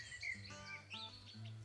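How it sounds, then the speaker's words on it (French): Birds sing at dusk in the bush, with faint high chirps and short whistled phrases over a low hum, quiet and somewhat distant. "sa voix rejoint les chants d'oiseaux qui bercent le calme crépusculaire"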